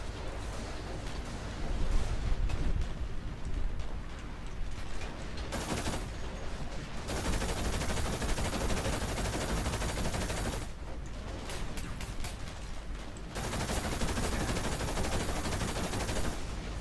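Video game gunfire rattles on continuously in dense, rapid bursts, a sustained barrage with only brief dips in intensity, heard alone without any talking.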